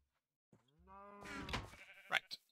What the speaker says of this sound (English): Come here, sheepies. I need some wool.